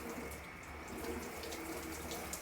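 A hotel shower runs with hot water, a soft, steady hiss of spray with faint splashing, quiet and continuous throughout.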